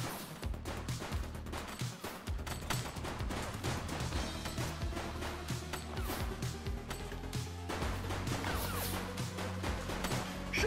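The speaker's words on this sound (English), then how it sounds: "Shots fired!" Gunfire in Police Simulator crackles in dense, rapid volleys, shots and bursts overlapping with crashes and thuds, loud and close for the whole stretch.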